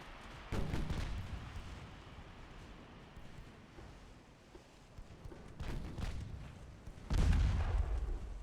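Warship secondary guns fire in a 1908-era naval battle game: several heavy booms land at intervals over a low rumbling sea-like wash, the last blast the loudest and deepest.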